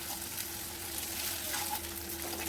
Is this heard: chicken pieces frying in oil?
yes